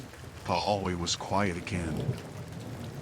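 Steady rain sounds run as a soft background wash under a single calm narrating voice, continuing evenly as the speech pauses.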